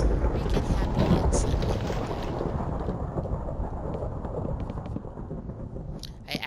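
Thunder from a thunderstorm rolls as a deep, continuous rumble with a rain-like hiss over it, loud and close through the whole stretch, easing slightly near the end before a few brief sharp crackles.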